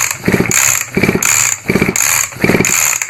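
A nitro RC car with a Turtle Racing version 2 pull start fitted to a 31.5 top end turns over under repeated pulls, giving loud, close, rhythmic engine bursts about every half second with no talking.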